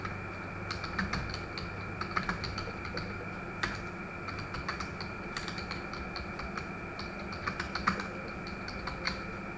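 Typing on a computer keyboard in an office, with quick irregular key clicks and occasional sharper taps over a low steady room hum, close and moderately quiet.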